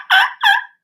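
A man imitates a wild turkey's gobble with his voice, two quick rattling bursts close to the microphone, with no talking over them.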